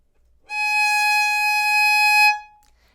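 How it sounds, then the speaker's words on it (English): Violin G sharp on the E string, second finger down, bowed as one steady sustained note after brief quiet, close and clear, then ending cleanly. "This is going to be G sharp."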